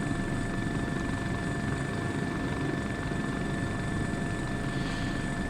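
Helicopter rotor and turbine drone from a flight simulator game, a steady, loud, continuous whir with a constant engine tone and no pauses.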